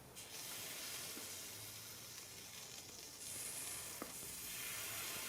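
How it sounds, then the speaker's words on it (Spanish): Water poured onto an overheated, smoking resistor in an LED floodlight boils off in a continuous, close, fairly quiet sizzle and hiss with a few small pops, steady for several seconds with no talk. "Tengo un poco de agua aquí, y le voy a poner encima el agua para que vean"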